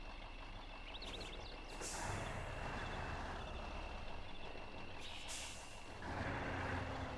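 A crane truck idles and rumbles in the Spintires off-road driving game while it manoeuvres, with two sharp hissing bursts of air brakes releasing, one early and one near the end, over the steady engine drone.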